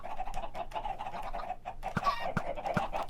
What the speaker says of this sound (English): So you'll notice all the baby chickens are coming into the bottom here